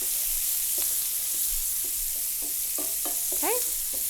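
Diced red onion fries with pancetta in a very hot pan, giving a constant bright sizzle broken by a few utensil scrapes and clinks near the end, close and steady.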